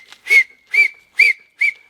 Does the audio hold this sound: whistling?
yes